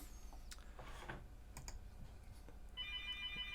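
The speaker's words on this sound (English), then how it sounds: "I will not answer that phone right now." Telephone ringing in a quiet room, a repeating electronic trill that comes in near the end after some keyboard typing and clicks, soft and distant.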